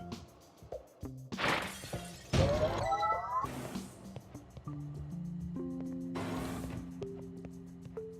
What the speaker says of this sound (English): Unfortunately, the breaking of this glass is a necessary evil.